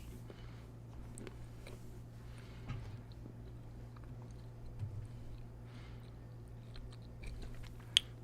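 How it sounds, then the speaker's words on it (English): Someone munches on a chocolate snack, with faint, scattered chewing and crunching close to the mic over a steady low hum. "Got myself a little chocolate snack, so you're gonna hear me munching on that."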